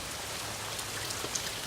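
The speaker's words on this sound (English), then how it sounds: "It's raining out here right now." Steady rain falls outdoors in Florida, a dense, even hiss of drops on surfaces close by, with a few faint individual patters standing out briefly.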